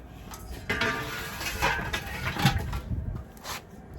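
An oven door opens and two fillets are turned in a pan, giving a run of close metallic clanks, scrapes and clatters spread irregularly over a few seconds with no talk.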